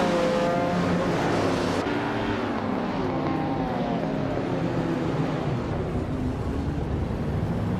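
Race cars in a racing video game launch off the start line together, a loud, dense engine roar with rising pitch sweeps as they accelerate away.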